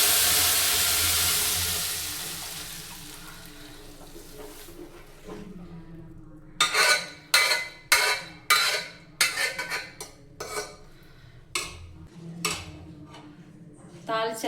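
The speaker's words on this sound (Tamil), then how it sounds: "ஃபைனலாக 2 பல்லு பூண்டை தட்டி போட்டு தாளித்து எல்லா பக்கமும் மிக்ஸ் ஆகிற மாதிரி 2 புரட்டி" Crushed garlic hitting hot oil as tempering for a green gram curry, a loud hiss that fades over several seconds, followed by a run of sharp metallic scrapes and clinks of stirring in the pan.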